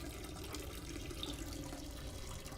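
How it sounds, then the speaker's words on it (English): A character in a peeing simulator video game urinates, a steady, unbroken liquid stream splashing continuously at moderate level throughout, with no talking. "Ah, yes, peeing simulator. Man, he really had to go."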